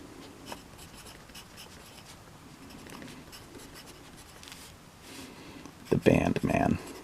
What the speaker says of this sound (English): And then I can write more on the back, more details.